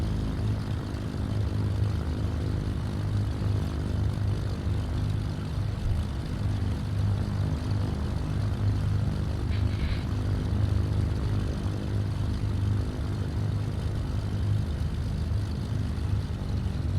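A twin-engine Cessna C310R in a flight simulator taking off, its propeller engines roaring loud and steady throughout with a constant droning hum, no voices over it.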